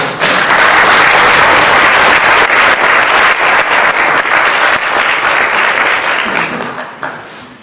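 An audience at a climate science talk applauds loudly and steadily to welcome a speaker, a dense wash of clapping that fades away over the last second.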